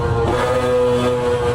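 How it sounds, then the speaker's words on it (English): A Mazda 787B rotary-engined Group C race car screams around Laguna Seca in a racing video game, its loud, steady, buzzing tone holding close throughout. "Using the screaming rotary engine,"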